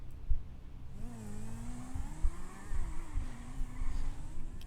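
A car being moved in Grand Theft Auto: a mid-pitched engine revs and whirs, rising and sliding in pitch as the vehicle pulls away, with a few soft thumps, moderately quiet and steady throughout.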